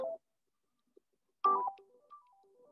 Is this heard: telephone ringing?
yes